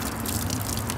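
Water runs from a tap into a flow cup in a steady, splashing gush, close and continuous with no pauses.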